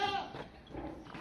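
Goats penned on a farm, including a nanny that gave birth a week ago, bleat loudly at close range in a short burst, the call wavering with breathy harmonics before fading into quieter rustling.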